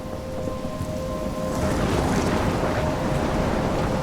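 A storm in the video game Life is Strange roars with heavy wind and rain, a dense, loud wash of noise that swells and thickens partway through, with a low tonal drone underneath.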